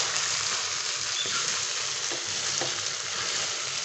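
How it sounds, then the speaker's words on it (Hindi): Okra being stirred into minced meat keema frying in a pan, a continuous bright sizzle with a few soft scraping stirs, close and steady without talk. "व्यूअर्स भिंडी को हम अच्छी तरह से कीमे के अंदर मिक्स करेंगे।"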